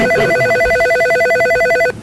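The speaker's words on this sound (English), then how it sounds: "I hear the phone ringing." A telephone rings at a borough assembly meeting, its electronic bell trilling in steady rapid pulses for about two seconds before stopping abruptly, loud and clear over faint room noise.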